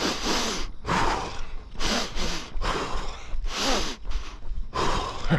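Heavy, labored breathing after a hard stair climb during a run, a series of loud, close gasping inhales and exhales in an uneven rhythm with brief pauses between them.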